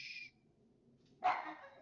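An indoor dog barking at something seen out the window: a faint higher yelp at first, then one louder, sharper bark with a short trailing tail, heard alone in a quiet room.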